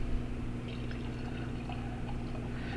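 Dark caramel-colored liquid pours from a bottle in a soft, steady trickle and splash, faint and close, heard alone.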